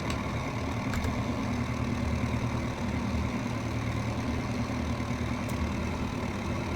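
Twin engines of a Piper Twin Comanche idling in the X-Plane 11 flight simulator, a steady droning hum with a low rumble, constant in level throughout.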